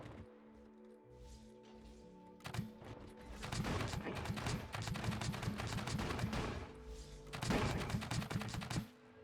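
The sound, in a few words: potato turrets firing in Scrap Mechanic video game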